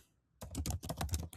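Fast typing on a computer keyboard while naming an AI agent in an n8n Slack workflow, a dense close burst of clicking keystrokes after a moment of near silence.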